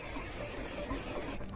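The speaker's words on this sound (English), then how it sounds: "And you spray directly on the hair." Hair color spray hisses onto hair in a continuous, soft aerosol stream that cuts off near the end.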